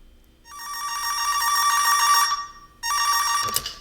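A telephone rings for an incoming call: two loud, close electronic trills, the first long and the second cut short, with no voices.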